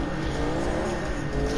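A Charger in CarX Drift Racing Online roars with a steady, loud engine drone, revving hard as it bangs through the gears, with no pauses in the sound.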